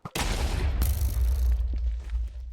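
Explosive arrow blowing up in a modded Minecraft game, a sudden loud boom with a sharp second crack, then a long rumbling noisy tail that slowly fades.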